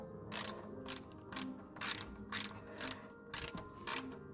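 A ratchet wrench tightens the last screw on a car thermostat housing. Close, quiet, rhythmic clicking comes in about eight short bursts, with brief pauses between strokes.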